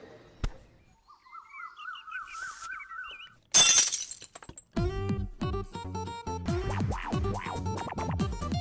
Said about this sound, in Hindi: मेरा कांच का ग्लास तोड़ दिया